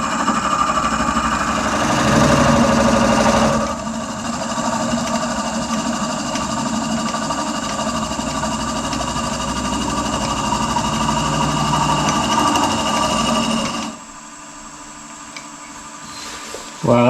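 Forstner bit boring into a beech yarn bowl spinning on a wood lathe: a steady, close motor drone with grinding hiss that runs on for many seconds, then drops lower and quieter near the end.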